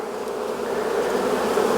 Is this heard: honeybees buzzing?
yes